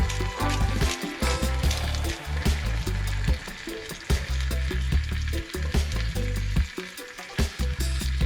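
Sliced potatoes and onion frying in a pan, a loud continuous sizzle with crackling pops and occasional stirring scrapes, close up and steady throughout.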